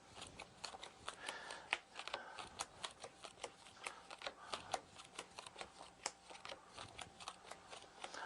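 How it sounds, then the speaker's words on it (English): Playing cards are dealt out in quick succession, each one landing as a faint, crisp flick or snap. The snaps fall in a fairly regular rhythm of several per second, close to the listener, with no talking. "I'll deal the cards out"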